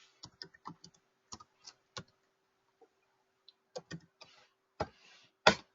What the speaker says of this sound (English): You can type that in